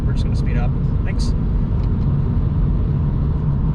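A car accelerating hard with the pedal floored, a steady loud engine and road rumble filling the whole stretch, with a few brief voice sounds near the start.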